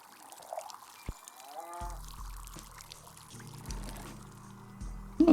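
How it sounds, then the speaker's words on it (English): Water poured onto a tree in the video game Wanderstop, a soft trickling splash over gentle game music with low tones, a brief louder burst near the end. "Water the tree, water the tree,"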